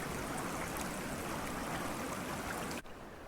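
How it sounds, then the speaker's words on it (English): A brook fed by melting snowpack rushes steadily through a temperate hardwood forest, a dense, continuous close-up wash of flowing water that cuts off abruptly near the end. "Brooks fill creeks that swell with the water of life as it courses through the land."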